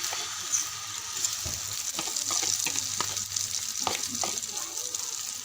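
Beaten egg sizzles in a pan for a Maggi noodle omelette at a school expo, a busy crackling hiss with scattered pops and clicks and a faint steady hum beneath.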